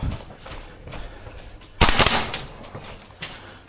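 A Tokyo Marui AK gas blowback airsoft rifle fires a sharp, loud shot with its clacking bolt cycle in an indoor CQB arena, followed by a couple of fainter shots and a quieter earlier report.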